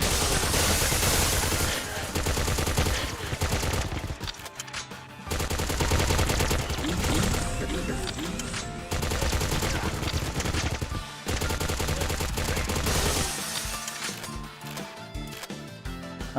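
Gunfire from a weapon in the spy video game Agent 64: Spies Never Die comes in dense, loud rattling bursts separated by short gaps, with mechanical clatter between the volleys and nobody speaking.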